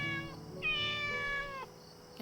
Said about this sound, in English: Small calico kitty.